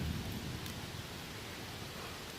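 Steady rain during a thunderstorm on the Appalachian Trail, heard as a soft, even wash of hiss with a faint low rumble early on, with no talking.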